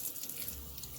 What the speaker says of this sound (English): I do run a little water for my eggs.